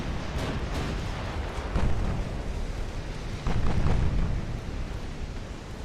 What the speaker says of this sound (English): you gotta love the sound of those guns